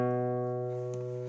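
An acoustic guitar sounds a held chord with the A string pressed at the second fret, one brief strum-like accent near the end, steady close sustain at low volume and nobody speaking.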